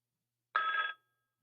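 A telephone in a freight dispatching office gives one short, clear ring, about half a second long, alone with no voices.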